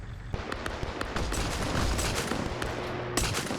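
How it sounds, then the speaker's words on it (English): Game artillery barrage from an Arma Zeus operation: dense, continuous volleys of gunfire-like blasts and booms layered over one another, loud and sustained throughout, with a fresh burst of impacts near the end. "Now I know not what to hit when I fire artillery shells"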